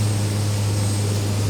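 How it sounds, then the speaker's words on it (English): A Pratt & Whitney PT6 turboprop engine drives a DHC-3T Turbo Otter floatplane, giving a steady, loud droning hum with a constant low tone and no talking. "Canadian Pratt & Whitney PT6 turboprop, which is in this one"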